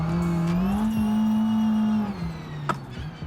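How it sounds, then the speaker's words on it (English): A modified Renault Twingo engine in the BeamNG driving game holds a steady, strained high-revving drone at redline, then drops off and bogs down near the end. The engine is loud and continuous, with no talk. "It's literally just redlining constantly."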